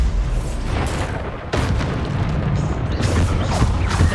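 Repeated booming Bombarda spell blasts in Hogwarts Legacy, several bursts across the stretch over continuous loud combat noise, the impacts close and heavy.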